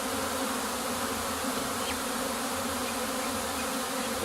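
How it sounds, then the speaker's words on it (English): A September bee swarm hums with a steady, calm, dense buzz that stays level throughout without rising agitation, with no talking over it. "it was a calm buzz and not an agitated buzz"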